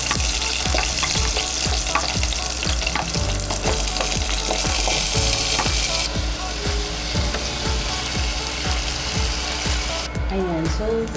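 Garlic and other ingredients frying for a homemade adobo, a loud close sizzle throughout with steady rhythmic scraping of a spatula and some faint background sounds.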